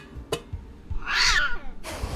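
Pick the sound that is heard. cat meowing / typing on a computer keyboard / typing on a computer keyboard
cat meowing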